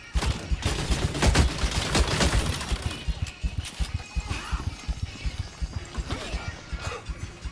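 Gunfire in a video game: rapid bursts of loud shots and fusillades crackle in quick succession, heaviest in the first few seconds and then continuing as sharper, spaced cracks, with no voices heard.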